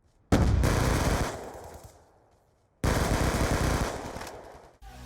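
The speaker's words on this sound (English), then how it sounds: "let's take a listen to the Scorpion from Black Ops 2" A Scorpion submachine gun from Call of Duty: Black Ops 2 fires in two loud, rapid automatic bursts, each about two seconds long, with a short gap between them and no talking.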